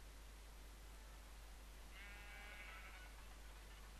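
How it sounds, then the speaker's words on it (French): A sheep bleats once in the Minecraft FTB modpack, a short wavering cry heard faintly midway through over a constant hiss and low hum. "C'est un mouton qui fait la fête."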